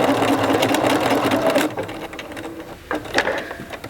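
A sewing machine runs a blind hem stitch along a folded fabric edge, a fast mechanical whirring that stops abruptly partway, followed by a few faint handling clicks close by.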